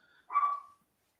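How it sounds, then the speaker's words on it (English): A single short bark from a pet dog standing at a house window, as if barking at people outside; the bark is faint and somewhat distant, with a quiet room around it. "she's by the window, and I'm assuming barking at people"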